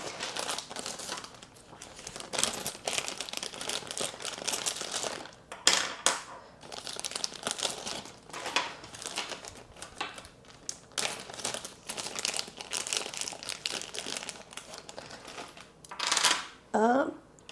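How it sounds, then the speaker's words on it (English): Heavy metal board game coins from the Septima deluxe edition clink and jingle as they are handled, with repeated close, bright clattering bursts throughout and a brief voice near the end. "I have these amazing metal coins"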